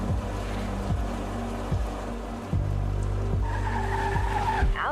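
A car driven in the video game Rue Vally, a steady engine drone with repeated pitch shifts as gears change, and tire skidding squeals rising near the end.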